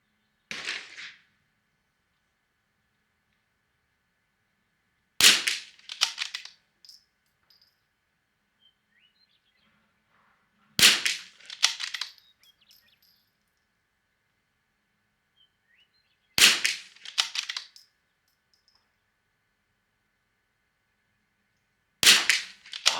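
Five sharp rifle shots from a long-range rifle firing Lapua and SK long range ammunition, evenly spaced about five seconds apart, each a loud crack followed by a short echo, with quiet outdoor stillness between.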